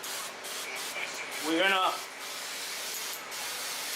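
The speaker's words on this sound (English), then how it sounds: "It's a spray, it smells delicious, and it's almost like hair fiber, but in a bottle." Hair fiber spray hisses from a bottle in a short burst held about a foot from the head during a fade haircut, steady background hiss around it, with someone speaking briefly.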